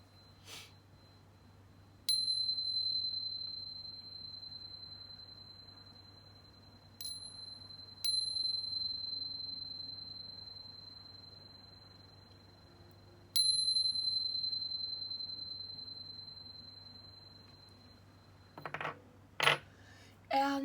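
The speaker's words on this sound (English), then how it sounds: "Let's go ahead and chime just to clear out the energies." A small chime struck three times to clear energies, each a bright ringing tone that hangs and slowly decays in a quiet room, followed by a few quick clinks near the end.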